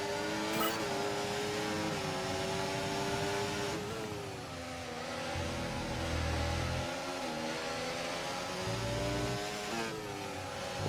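An F1 car at full throttle in the video game F1 24 at Spielberg, Austria, its high engine whine rising and shifting through gears steadily, with low rumbles surging in twice.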